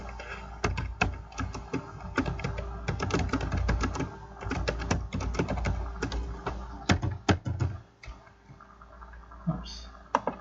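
Typing an address on a computer keyboard: dense bursts of close key clicks over about ten seconds, loosening into scattered taps near the end.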